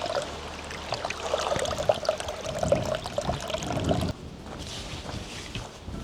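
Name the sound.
water trickling on a mountain trail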